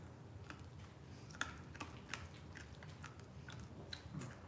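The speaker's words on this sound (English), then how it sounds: "Can you hear the crunch?" Crunching and biting while eating strawberries, with irregular crisp chewing clicks over a low steady background and no talking.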